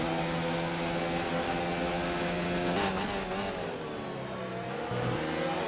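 Sim racing game cars at a Mexico circuit brake hard and accelerate through a stadium section, a loud steady engine whine that sags, briefly drops near the end under braking, then surges back up as the throttle reopens.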